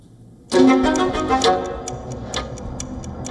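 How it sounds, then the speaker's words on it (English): A clock ticks steadily, a repeated sharp click roughly every half second, rising suddenly out of near silence and then continuing a little quieter with no voices. "The climate clock is ticking"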